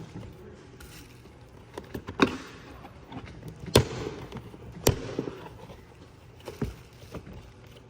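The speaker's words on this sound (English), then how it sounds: "you literally can hear how it unsnaps as you loosen it" Plastic tabs on a carbon fiber diffuser of a 2021+ Tesla Model S unsnap in a few sharp pops and clicks, spread out over a few seconds, at close range with no talking.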